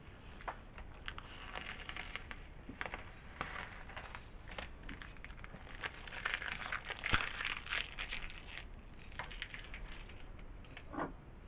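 Cricut stencil vinyl being peeled off a t-shirt, a continuous close crinkling and tearing with small crackles and ticks, steady for several seconds without speech.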